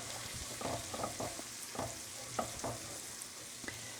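Minced aromatics hit a hot pan for Steak Diane, sizzling steadily while a utensil stirs them in a few distinct scraping strokes, close up with no voices.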